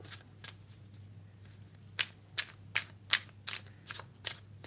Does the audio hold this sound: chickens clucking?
no